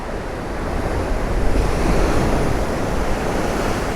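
Rough, choppy sea at Puerto de la Cruz, Tenerife, roars in a steady, loud wash of surf and wind, dense and continuous with no pauses and no voices.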